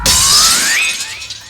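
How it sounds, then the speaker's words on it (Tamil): A sudden, loud crash of glass shattering up close, followed by bright tinkling fragments that ring out and fade over about a second. "ஏய் சவுண்ட் கேட்டியா? கண்ணாடி எவனோ உடைச்சா?"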